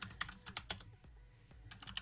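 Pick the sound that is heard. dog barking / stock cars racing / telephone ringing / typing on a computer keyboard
typing on a computer keyboard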